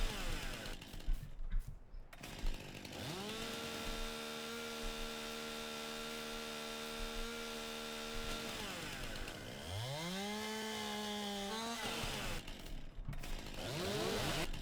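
Chainsaw from the Farming Simulator 19 logging game cutting felled logs into long pieces for a forwarder, a steady loud engine whine running through most of the stretch and dipping in pitch as it bites through the wood.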